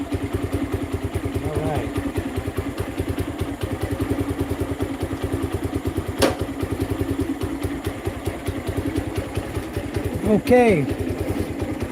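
A motorcycle engine idles steadily and close by at night, its rapid pulsing putter running throughout, with a voice speaking briefly over it and a sharp clack midway.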